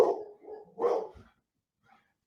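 A dog barks twice, close and fairly loud, the second bark fuller, then a short pause and a faint trailing yip.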